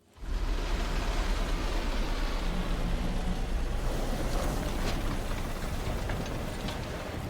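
A spaceship engine in The Outer Worlds 2 gives off a constant, loud, low rumbling roar with a hissing wash on top. It holds steady for several seconds with no speech.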